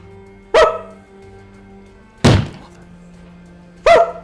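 Catherine's dog gives three sharp, loud barks spaced a couple of seconds apart, each a quick percussive burst over a quiet low hum, with no voices in between.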